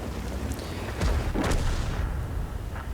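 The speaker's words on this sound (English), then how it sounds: "as I bounce another shot of the Type 59" A tank cannon shot bouncing off a Type 59 tank in a video game: a muffled, booming impact with a rumbling tail, fairly loud over a constant low battle noise.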